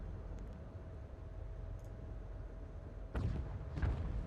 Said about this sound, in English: look at all that fire coming in